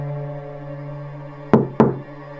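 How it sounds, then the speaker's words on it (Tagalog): Two loud, close knocks land on a door in quick succession after a low droning hum, a horror-story sound effect. "2 katok diretso sa pinto."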